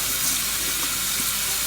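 Tap water runs steadily and close while potatoes are washed off in a kitchen sink, a continuous hissing splash with no voices over it.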